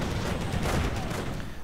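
Auto cannon fire from a German Panzerwagen armored car in a World War II strategy game battle against American troops, a short, loud volley of heavy rapid shots blending into battle noise.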